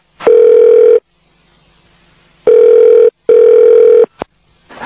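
A telephone call connects with three loud, steady electronic ringback tones separated by silent gaps, followed by a short click as the line picks up.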